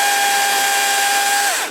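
Chainsaw cutting small trees close to the base while clearing a yard, a loud steady high-revving whine held for over a second before winding down at the end.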